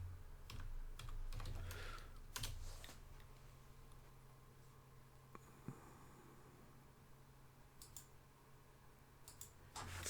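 Steady typing on a computer keyboard fills the stretch, with bursts of close, crisp keystrokes and clicks at an uneven rhythm over a faint background hum, and nobody speaks.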